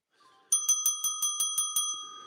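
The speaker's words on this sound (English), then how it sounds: "Let's ring the bell for the shorts that got 488 there for a minute." A small bell rung for a trade: about eight quick, bright dings in a steady rhythm, close and clear with no talk.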